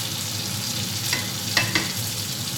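Pork chop frying in a pan for katsudon, a steady close sizzle of hot oil with a couple of faint utensil clicks partway through.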